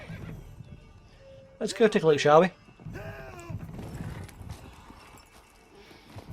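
A horse in The Witcher 3 gives one loud, shaky whinny, with hooves clip-clopping in the game soundscape; someone talks before and after it.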